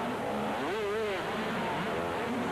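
An 80cc motocross bike howls at full throttle in a supercross race at the 1988 Sydney Supercross Masters, its engine note rising and sweeping in pitch over a dense, continuous roar of crowd and track noise.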